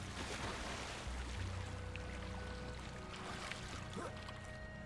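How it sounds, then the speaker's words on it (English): Character swimming in Hogwarts Legacy, with steady water splashing and lapping under a faint game soundtrack, continuous and moderately quiet. "I did not even know that I can swim in the water"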